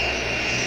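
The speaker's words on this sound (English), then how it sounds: "Boeing 757 is ready to taxi into position." A Boeing 757 jet engine roars steadily as the airliner taxis, a loud, continuous whine and rumble filling a short moment with no voices.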